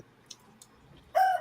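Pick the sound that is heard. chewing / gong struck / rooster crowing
rooster crowing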